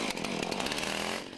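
A chainsaw engine runs steadily, a dense buzzing drone with a rapid rough texture, close and continuous for a short stretch before easing slightly at the end.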